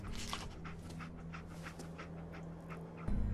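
Dogmeat, the dog companion in the video game Fallout 4, pants steadily and whimpers faintly, close up, over a low droning game ambience, with no talking.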